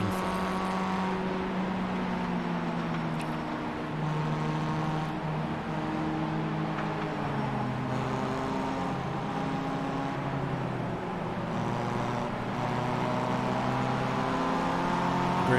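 Pontiac Solstice race cars in the iRacing sim droning together at steady high revs, a dense layered engine hum with shifting pitches, continuous and moderately loud throughout, no voices.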